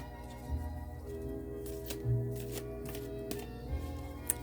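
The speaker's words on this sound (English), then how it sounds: "So we'll pull those cards out now." Unicorn oracle cards with a northern lights design are pulled from the deck and shuffled in a quiet room, giving a few soft riffling bursts and light papery slides against a faint background hum.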